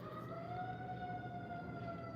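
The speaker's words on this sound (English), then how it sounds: "damn, y'all hear that? Sounds like the ambulance." An ambulance siren sounds faintly outside, a steady wailing tone heard at a distance over low background noise.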